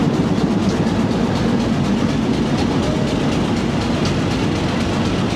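An old diesel locomotive known as the Old Beast hauls the 228DN shuttle train on a Pakistani branch line near Multan Cantt. Its heavy rumble and engine drone stay loud and steady throughout.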